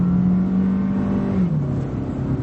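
2014 Buick Encore subcompact crossover with about 78,000 miles accelerating, a steady engine drone heard from inside that drops in pitch midway as the transmission shifts, somewhat roughly.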